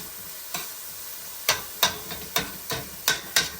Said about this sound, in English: Mix that all around, get it all mingling, co-mingling. Melt the garlic butter throughout.